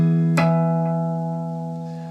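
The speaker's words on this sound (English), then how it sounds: "I hit the fretboard on the 21st fret, I get all the artificial harmonics from the notes on the 9th fret" Guitar artificial harmonics produced by tapping the fretboard at the 21st fret over notes held at the 9th fret: a single sharp tap followed by bright, ringing bell-like overtones that slowly decay, close and alone.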